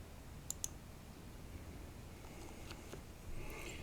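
A computer mouse clicking on a launch icon on a modern PC: two quick, faint clicks close together, followed later by a couple of softer clicks over quiet room noise.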